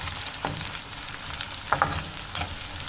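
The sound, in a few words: cumin and black pepper frying with onions in a pot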